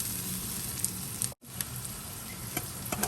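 Peas sizzle and fry in a hot pan as filling for dosa, a steady dense crackle with a few sharper pops and one brief dropout, close and alone with no talk.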